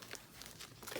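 Loose paper bingo cards being handled and straightened in a craft space, a brief series of soft crinkles and light rustles, close and quiet.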